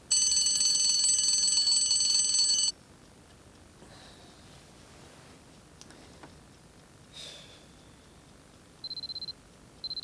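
An alarm clock rings loudly with a rapid electronic beeping for about three seconds, then stops. Quiet room noise and small rustles follow, and short bursts of beeping return near the end.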